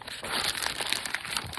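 Newspaper sheets crumpled by hand to form a paper mache rock, a dense, continuous crinkling and rustling close up, steady and fairly loud with no voices.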